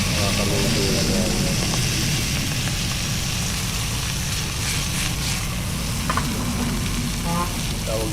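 Fish roasting in a kawali gives a steady, loud sizzle that hisses without a break, with faint voices talking underneath.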